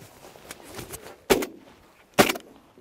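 Two sharp shotgun blasts ring out about a second apart during an outdoor goose hunt, with quiet field noise between them.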